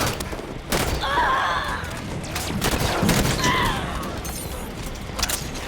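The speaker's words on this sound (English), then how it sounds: "rifle is not great." Rifle fire in Halo 5: Guardians: a close, loud run of rapid shots with metallic impacts and game effects, steady throughout, with some voice underneath.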